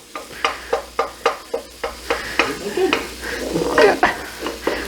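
Potatoes sizzle in oil in an oversized frying pan on a burner while being stirred, a steady hiss punctuated by rhythmic scrapes and clacks of a utensil against the pan, close and fairly loud.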